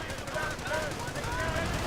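Sustained machine gun fire in an infantry-focused strategy video game, a dense rapid crackle of shots with a mixed battle din, loud and continuous for the whole moment.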